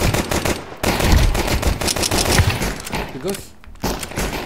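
Rapid video-game gunfire rattles in dense automatic bursts while someone talks over it, testing a game on a GMKtec K8 Plus mini PC.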